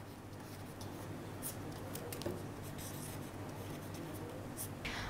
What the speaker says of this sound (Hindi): मैं आपको लिख कर ही बताती हूँ ताकि आप उसे आराम से समझ पाएँ